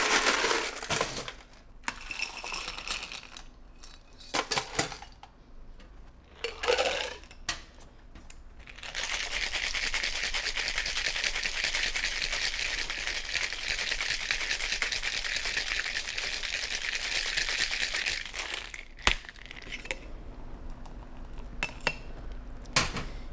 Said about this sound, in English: filling this up with ice and giving it a good old shake